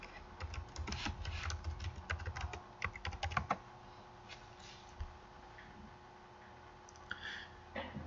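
Quick, irregular key presses on a computer keyboard while an email address and password are entered at a login screen, a busy burst of clicks that then thins into a few scattered taps, close and quiet, with no talking.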